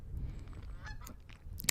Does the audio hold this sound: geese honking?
yes